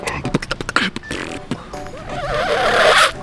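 A human voice mimics the braking of a pickup truck with squealing, wavering vocal screeches following a run of short clicks and pops, close and loud.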